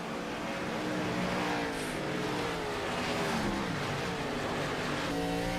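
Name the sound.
race car engine in iRacing video game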